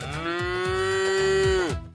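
A cow in the mobile survival game Hamba Cow Sim, set in a cattle market, gives one long, steady moo that lasts nearly two seconds, loud and alone.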